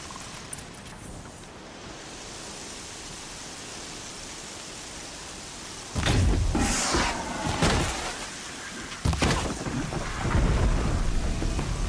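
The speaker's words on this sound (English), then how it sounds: "Been waiting for the storm to hit." A thunderstorm in the video game Horizon Zero Dawn, with steady rain hissing throughout and loud, rolling thunder cracks bursting in twice in the latter half.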